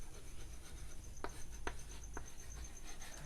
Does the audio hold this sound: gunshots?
no